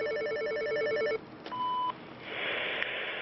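An automated flood alert call during a Seine flood around Paris: an electronic ringtone warbles in a rapid repeating pattern for about a second, then a pure tone sounds, followed by a soft hiss.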